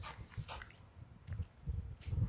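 A dog nearby lets out faint, scattered yips, barks and whimpers in short bursts over a quiet background.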